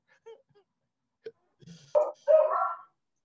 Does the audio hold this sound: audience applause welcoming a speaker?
no